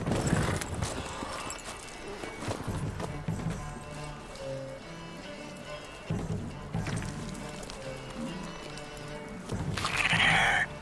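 Rhythmic hoofbeats of a galloping horse in The Witcher video game clop along continuously, mixed with game music and occasional voices.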